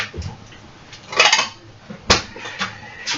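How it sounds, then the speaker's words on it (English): Ceramic or plastic clatter as a bowl is grabbed from a kitchen stack, with two sharper knocks among softer rattles and handling noises, fairly close and with no one talking. "Let me grab a bowl."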